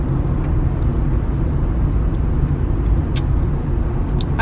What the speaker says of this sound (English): It's fucking rush hour traffic.